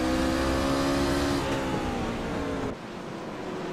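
Race cars on an oval track running through turns and down the back straightaway, a loud dense engine roar that holds steady then drops off abruptly near the end, with no talk over it.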